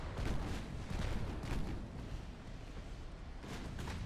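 Heavy battleship guns boom in repeated salvos during a naval battle in Ultimate Admiral Dreadnoughts, a dense, rumbling barrage of deep blasts that runs through the whole stretch without a break.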